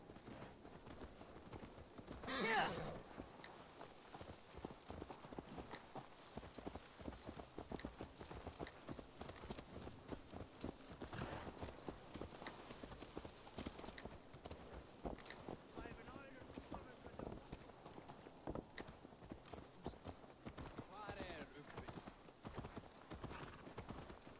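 A horse walks in the game Assassin's Creed Valhalla with soft, steady clip-clop hoofbeats under wind and ambient noise, and a voice speaks briefly over it, all fairly faint.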